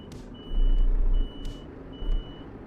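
A truck in Euro Truck Simulator 2 reverses to park, giving three evenly spaced high reversing beeps over a low engine rumble.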